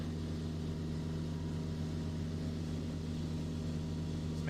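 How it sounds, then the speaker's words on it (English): A light bush plane's engine held at departure power during takeoff in Flight Simulator, a steady droning hum with a strong low tone, constant and unbroken throughout. "Let's maintain engine power for departure so we don't risk loss of power."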